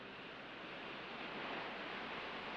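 Steady broadband roar of ocean surf breaking on a reef, a continuous wash of waves with a slight swell in loudness, no voices over it.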